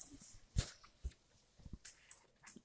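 A dog makes a few sharp, brief sounds, like short woofs or snorts, in scattered bursts separated by quiet gaps, fairly close and faint.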